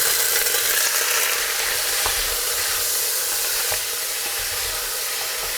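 Lamb pieces browning in hot fat in a casserole pot, a steady loud sizzle and crackle with a few sharp pops and occasional stirring scrapes, no talk.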